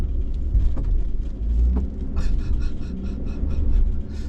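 A van rolls slowly across a small covered bridge in Vermont, giving a loud, close, continuous low rumble with faint thumping of the wheels over the deck boards and no talking.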